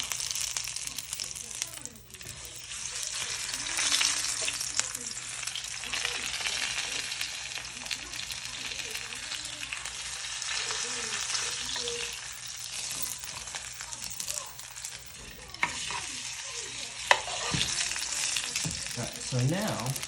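A ribeye steak searing in a hot pan, a loud, continuous hissing sizzle with crackles and pops, while a person talks over it at times.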